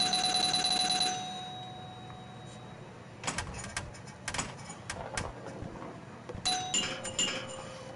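Zaccaria Pinball electromechanical-style table in the video game, sounding sustained scoring bell tones at first, then scattered ringing dings and clinks in irregular bursts, moderately quiet with no talk.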